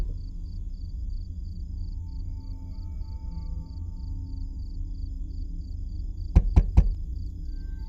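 Three quick, loud bangs on a door in the horror game Fears to Fathom Norwood Hitchhike land close together near the end, breaking a quiet, low ambient hum.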